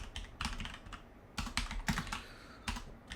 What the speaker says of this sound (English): Oh my goodness, typing.